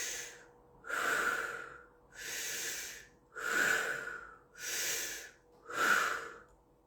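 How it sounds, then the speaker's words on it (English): A person takes deep belly breaths in a guided breathing exercise: five slow, loud inhale-exhale cycles close to the mic, each a long airy rush with pauses between, and no talking. "What I need you to do is a deep belly breath."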